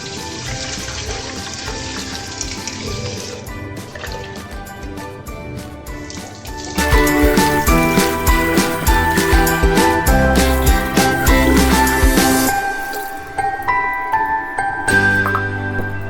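Rice being washed in water by hand, with swishing, sloshing and grainy rattling in a vessel, steady at first then louder and busier, close and without talk.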